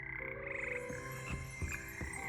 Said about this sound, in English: Frog choir.